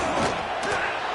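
A big stadium crowd roars at an American college football game in NCAA 25 near the goal line, a dense, loud wash of cheering with a brief surge, no clear single voice.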